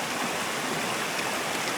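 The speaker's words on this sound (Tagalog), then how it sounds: "May falls pa ulit doon." Steady rushing water from a waterfall and river in the hills of Tanay, a dense, even hiss of flowing water that stays constant and fairly close throughout.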